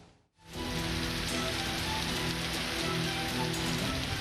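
Heavy rain pours steadily in Samarinda, East Kalimantan, a dense even hiss of water striking surfaces that starts after a brief gap and continues loud and unbroken, no voices.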